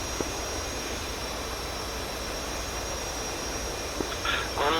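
In the DCS flight simulator, a jet aircraft approaches a carrier at night, producing a steady, broadband engine roar with a faint high whine, constant and moderately loud, rising slightly at the end.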